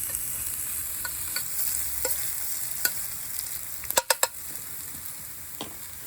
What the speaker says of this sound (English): So now I can sweat those down as the other side of the mushrooms are searing.